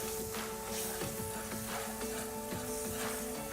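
Red wine sauce with vegetable stock sizzles in a pan, a steady dense hiss that holds level throughout, with faint stirring taps underneath.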